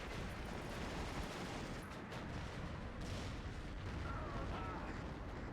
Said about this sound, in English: Another UR2 will drop his bombs at the same time of the U-88 coming in.